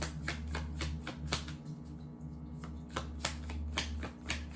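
Tarot cards being shuffled by hand during a reading, a steady run of crisp riffling flutters and soft slaps repeating over several seconds, close and clear with a low hum underneath and no talk.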